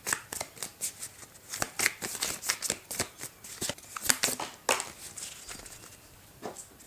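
Oracle cards shuffled and drawn close up, a run of quick papery riffles and snaps in uneven bursts, fairly quiet, with no talking.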